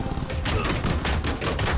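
Rapid bursts of gunfire from Call of Duty: Vanguard, set in the Battle of Midway, crackle loud and close, with several overlapping shots fired in quick succession.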